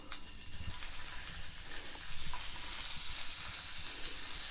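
Boneless, skinless perch fillets sizzle steadily in hot oil during an outdoor catch-and-cook on the ice. The frying is a constant, fairly close hiss with a few sharper crackles near the start.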